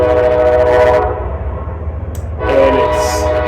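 A train passing close by, with a loud rumbling roll throughout and blasts of its horn at the start and again near the end, heard alone without talk.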